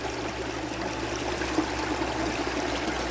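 A small creek flows steadily nearby, a soft continuous babble and trickle of water with a low steady hum underneath, no voices.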